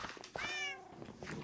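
A Minecraft cat meows once clearly in the middle, a rising-then-falling tonal cry, near and fairly loud over faint background clicks and ambient noise.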